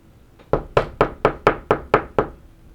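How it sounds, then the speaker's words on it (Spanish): Someone pounds violently on a door with eight heavy, evenly spaced knocks in quick succession. Each knock is loud and close, with no voices. "el sonido de alguien tocando violentamente la puerta"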